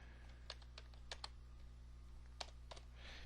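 Keystrokes on a computer keyboard, a handful of quick, light clicks in irregular bursts over a steady low hum, fairly faint and close.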